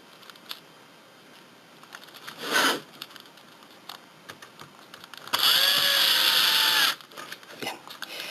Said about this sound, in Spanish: Seguimos colocando el resto de tornillos